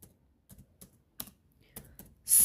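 A computer keyboard clacks in short, irregular bursts while an SQL command is typed, each keystroke crisp and close in a quiet room, with a louder burst at the end.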